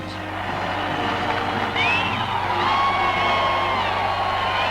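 Crowd of onlookers along a wartime parade route shouting and cheering for marching French sailors from the battleship Richelieu, a dense, steady roar of voices with occasional whoops rising above a constant low rumble.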